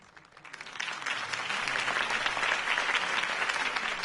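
A crowd bursts into applause, the clapping building quickly and then holding as a dense, steady roar of hands, heard from some distance.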